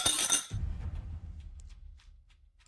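Glasses clink together in a toast with one bright, sharp chink at the start, then a ringing tail that fades quietly over the next two seconds, close by and with no voices.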